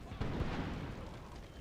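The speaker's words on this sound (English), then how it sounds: "That was enemy canister being fired by from the cannons inside?" Cannons firing canister shot from inside a fort in the video game Imperial Splendour, with a deep booming blast and a rumbling roll that fades across a short moment, muffled and somewhat distant.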